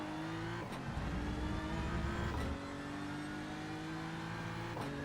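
A BMW race car in iRacing holds a steady, loud engine drone near the listener, broken by quick upshifts that briefly change the pitch before it settles back into the same constant roar.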